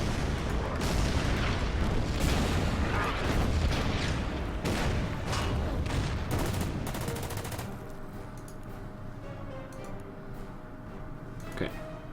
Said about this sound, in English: the artillery will start firing on the A2